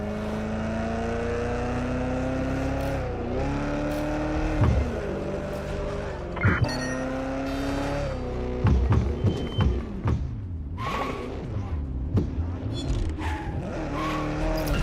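A car driven in the video game Watch Dogs Legion revs and shifts with a steady engine drone, broken by several sharp tire squeals and skids through the second half.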